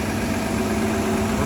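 Concrete pump engine running steadily while basement walls are poured, a loud continuous mid-low drone with a constant hum and no break or voices.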